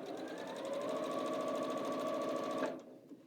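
A sewing machine runs a continuous fast stitch along a quilt seam in Moda fabric, its needle humming and buzzing steadily at close range before stopping abruptly near the end.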